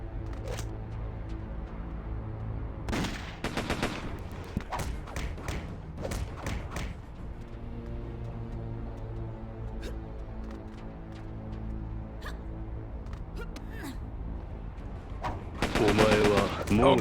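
Enemies in a video game open fire with guns: sharp gunshots and short automatic bursts crack out at intervals among thuds and shuffling game noises, growing into a heavier burst at the end.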